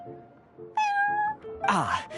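Prince, the cat at the Cat's Tail in the video game Genshin Impact, gives a clear, steady meow and then a louder, bending yowl, both close.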